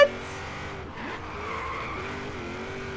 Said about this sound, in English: She drifts, ladies and gents.